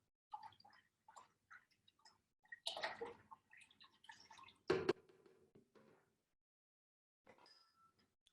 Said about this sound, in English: We're gonna take 20 ounces of lemon juice and we're gonna pour it in to 3 quarts of water